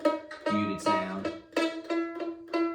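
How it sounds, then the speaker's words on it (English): A string of short, dampened mandolin notes, fretted too far back from the fret and plucked one after another with a dull, choked tone. Close up, no talking. "If you play too far back, then you're going to get a real muted sound."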